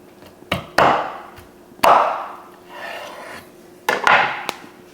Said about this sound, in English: I'm just gonna go down and take a chop.